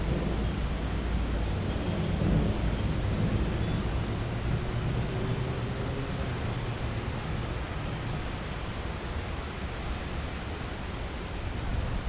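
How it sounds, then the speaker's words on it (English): Steady rain pours during a thunderstorm at Dallas Love Field airport, a broad even hiss with a faint low rumble beneath, continuous and fairly close, with no voices. "Thunder."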